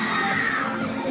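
Children scream and shout together in a loud, continuous burst of high-pitched yelling that sounds close by, with no clear individual words.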